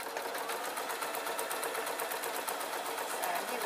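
A sewing machine runs steadily while stitching a waistcoat, a continuous fast whirring buzz held at an even level with no pauses and no talking.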